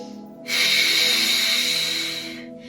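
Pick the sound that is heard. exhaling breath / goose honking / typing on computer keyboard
exhaling breath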